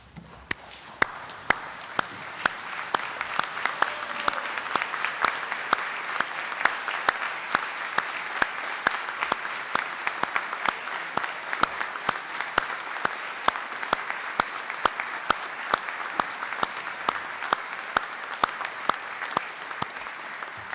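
An audience at a university graduation ceremony applauds its new graduates with dense, sustained clapping that fills the hall steadily for about twenty seconds.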